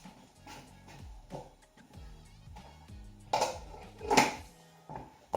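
Metal lid set onto a pot of bulgur wheat, a few soft clanks and scrapes building to a sharper clatter near the end, close up.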